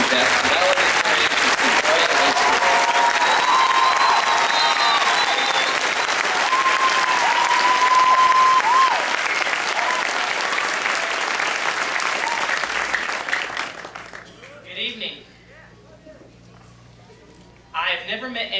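An audience bursts into loud, sustained applause at a class of 2009 graduation ceremony for the valedictorian, dense clapping for about thirteen seconds before fading, with faint cheers, then a voice begins speaking.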